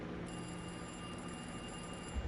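A telephone rings steadily in Alone in the Dark, a continuous electronic bell tone, moderately faint and heard alone.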